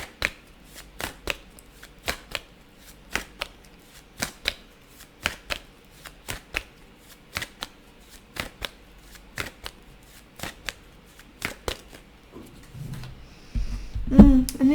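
Tarot cards being shuffled in repeated sharp riffles and flicks at a steady rhythm, close and fairly loud, with a brief rustle and a clunk near the end.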